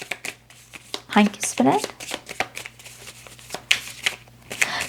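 Tarot cards are shuffled by hand in quick papery riffles and flicks, close to the mic, while a voice speaks briefly over them.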